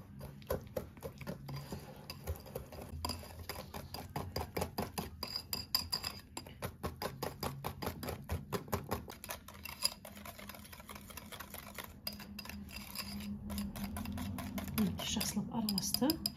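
Sugar, egg and sour cream are whisked together in a bowl, giving a fast, even run of metallic clinks and taps that later settles into a softer, smoother stirring swish.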